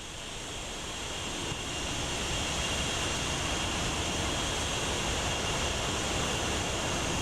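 An F/A-18C Hornet jet taxiing in the DCS flight simulator game, a steady roaring whine that swells slightly at the start, then holds constant and loud with no talk.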